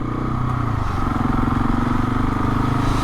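A motorcycle engine hums steadily and close as the bike filters slowly past queued traffic in town, a low throbbing drone with faint clatter, no talking.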